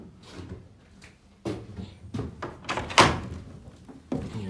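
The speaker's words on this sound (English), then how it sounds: "Here's your back doors, work really nicely. Close that." The rear doors of a 1974 Chevrolet P30 step van are swung shut. Several metallic thunks and latching clacks sound nearby, with one sharper slam in the middle, and there is no talk.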